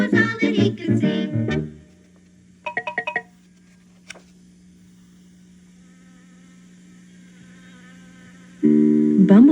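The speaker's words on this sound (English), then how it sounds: "Buzz like a bee for a minute or two." A bumblebee-like buzzing drone hums steadily and softly for several seconds between bursts of singing and music, a thin continuous buzz running under the quieter stretch.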